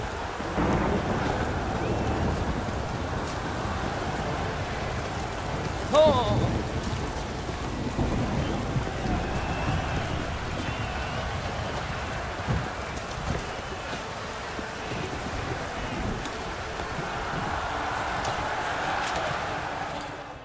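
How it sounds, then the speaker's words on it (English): A rainstorm with thunder in The Witcher 3: a steady dense wash of rain with low rumbling thunder swelling underneath, continuous and enveloping throughout. "Storm, damn it."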